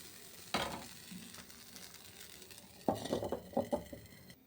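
Pitha batter hitting a hot, oiled iron mould, with a sudden quiet sizzle, then a later burst of frying crackle and a few soft clinks, close by.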